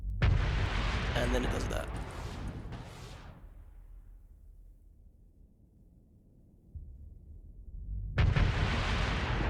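Weapon fire and explosions in the space combat game Starsector with the Scy Nation mod: a dense, loud roaring barrage of blasts that fades into a quiet rumble, then another heavy burst, with someone talking over it.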